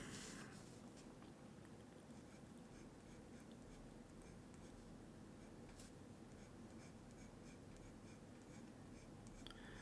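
Caran d'Ache fixed pencil with 2mm graphite writing on fibrous matte postcard paper, a steady soft scratchy rasp that runs continuously and close up, quiet, with faint strokes and small lifts and no voices.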